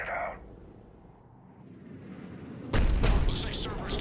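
Cannon fire in the Mass Effect video game as Cerberus brings the weapon online: a short boom opens, then after a quiet stretch a loud, sustained rumbling blast erupts and rolls on with bursts.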